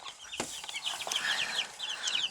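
Young chicks on a backyard flock peep and cluck continuously at close range, with a few sharper calls and light handling knocks, no talking.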